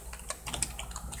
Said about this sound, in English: It's nice when you're actually typing in the box